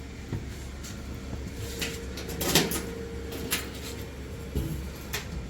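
The door of a Thunder laser cutter in a workshop opens with a few soft clunks and rattles, with a firmer knock midway and another near the end, over a quiet room hum.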